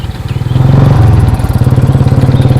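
A kerosene-fuelled motorbike engine runs close by, a steady loud chugging putter with a rhythmic pulse and no voices.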